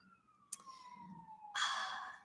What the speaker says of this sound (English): Sorry, there's a siren.